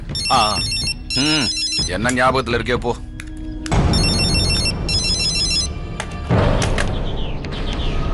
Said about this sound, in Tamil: செல்போன் அடிக்குதுடா, எடுத்து பேசு.